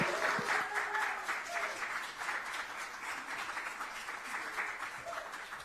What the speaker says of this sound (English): Please give me a hand in welcoming warmly Reverend Christina Garza.